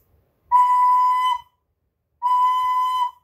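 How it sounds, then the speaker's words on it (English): A recorder plays the note B with one hole covered: two clear, steady, bright tones of about a second each, separated by a short pause, heard alone and close. "this makes a B sound, okay, when you cover it with one finger"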